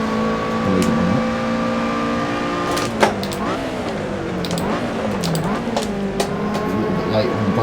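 Lotus Exige race car engines howl in the Assetto Corsa racing game, a steady droning engine note rising and falling through gear changes with a few sharp clicks, while someone talks over it throughout.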